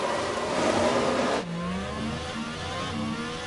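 Formula 1 cars at the Red Bull Ring in F1 Manager 23 scream as they accelerate off the starting grid, a loud, continuous engine roar that dips sharply and then carries on with higher engine tones.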